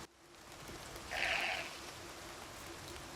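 A single bleat from a sheep in the video game The Elder Scrolls IV: Oblivion, short and moderately clear over a steady background ambience, with no talking.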